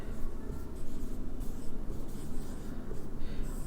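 Marker or chalk scraping steadily across a classroom board during a Hindi lesson on child development, a continuous close scratching with short strokes and brief pauses, no voices over it.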